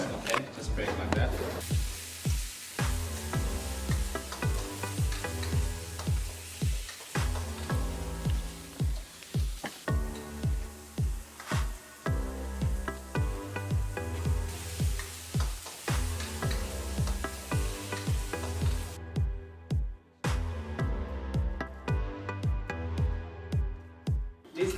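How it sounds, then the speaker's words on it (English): Thai curry paste is fried in hot oil, giving a steady, close crackling sizzle with scattered pops and some stirring scrapes throughout, under intermittent talking. "you must break the curry paste with the oil"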